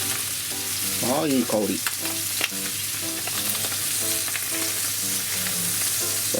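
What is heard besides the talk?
chicken thigh frying skin-side down in a pan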